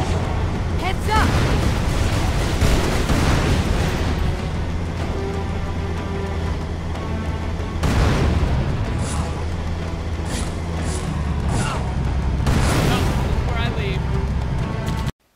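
Tank cannon fire and explosions in the video game Halo 2, a loud, dense barrage of booms and blasts with rumbling low-end running almost without pause across the whole stretch.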